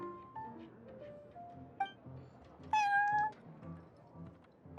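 Prince, a cat at the Cat's Tail in Genshin Impact, meows several times over soft background music, with one long, clear, rising meow standing out near the middle.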